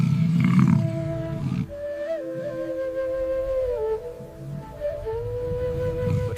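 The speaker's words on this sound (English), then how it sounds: "for the pride's lead lioness, the roar signifies more than just security" A pride's lead lioness lets out a deep, rough roar up close, followed by long, low, drawn-out groaning calls that rise and fall over several seconds.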